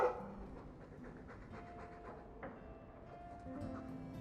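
Guard dog in the game Dragon Age 2 panting quietly in quick, steady breaths, faint and close, with a low hum of background ambience and no talking.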